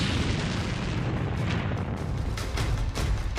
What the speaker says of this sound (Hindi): इसके बाद ये टैंक जलता रहा और फिर हुआ ऐसा धमाका।